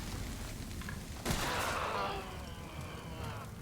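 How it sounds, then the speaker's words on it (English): A single loud shotgun blast in the horror game Resident Evil 7 cracks out at about a third of the way in, its roar trailing off over a steady dark ambient rumble. "Shotgun time."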